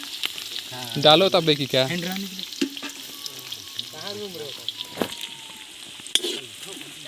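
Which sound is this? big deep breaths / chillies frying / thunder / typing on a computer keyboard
chillies frying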